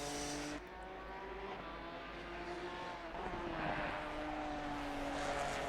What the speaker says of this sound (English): Then it will be Scott Lawson in the LZE racing car around the final turn.